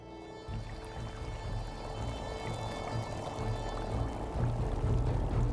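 Thermal spring water at the ancient Plutonium of Hierapolis gushes and flows in a steady, close, rushing wash that holds an even loudness throughout, with no voices.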